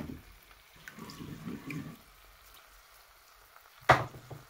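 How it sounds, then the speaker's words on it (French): Water is poured into the bottom of a cooking pot while preparing fish with banana foutou and tomato sauce, giving a brief trickling splash and then a louder sharp splash near the end. "Maintenant, je viens rajouter de l'eau dans le fond de mon palier."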